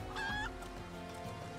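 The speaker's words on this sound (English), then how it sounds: "That's a chicken, alright." A chicken in the Final Fantasy XIV game lets out a short honking cluck, a brief harmonic call near the start followed by a low steady game ambience.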